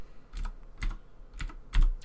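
Four quick bursts of keystrokes on a computer keyboard, close and clear, evenly spaced about half a second apart with no talking.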